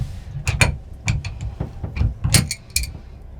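Metallic ratcheting and clicking of a wrench tightening fittings while installing a modification on an Airstream travel trailer, in several short close bursts.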